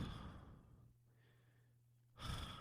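A person imitates their own sleep breathing: a long, hushed held pause with a faint steady tone, then a sudden loud gasping exhale bursting out at the end. No words are spoken.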